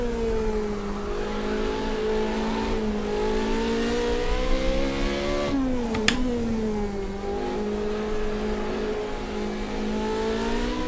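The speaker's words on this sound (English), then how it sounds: "Just put myself into a drift coming out of that." Race car in Project CARS 2 drifting out of a corner, a steady loud engine drone with the pitch sagging and then rising again, plus a brief sharp knock midway.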